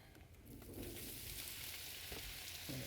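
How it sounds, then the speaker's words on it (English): Potatoes frying in a little oil on a flat griddle beside steak, a steady close sizzle with bright crackling hiss throughout and no talking. "Just gonna put those down with a little bit of oil, start those at the same time as the steak."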